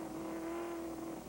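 NASCAR race car at Lime Rock Park road course, Dodge Dealers 200 in 2000, engine held at steady high revs under throttle, a loud sustained drone close by with no talk.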